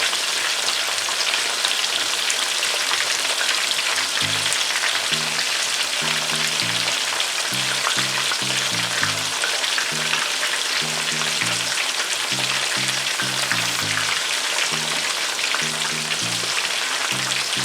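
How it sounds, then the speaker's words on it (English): Chicken drumsticks for Jamaican brown-stew chicken sizzle and fry steadily in a pan, a constant crackling hiss with a few soft low thuds and bumps over it, and no talk. "I'll just brown them on one side for about 3 minutes, and then I'll turn them, brown them on the other side"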